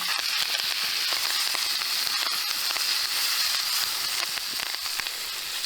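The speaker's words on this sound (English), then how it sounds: "Make sure you've got a good sear on both sides." Steak searing in a hot oiled pan with thyme and shallots, a loud steady sizzle and crackle filling the whole stretch with scattered sharp pops.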